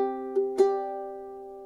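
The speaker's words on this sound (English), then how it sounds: "I'm going to pluck the A and the E strings at the same time together" Ukulele fingerpicking with the A and E strings plucked together, two soft plucks ringing on in a sustained chord, close and alone.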